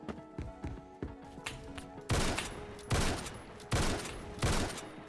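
Sniper rifle fire in the Roblox game Phantom Forces: four loud, evenly spaced booming shots after a stretch of quieter clicks and taps, each shot followed quickly by a mechanical rechambering clack.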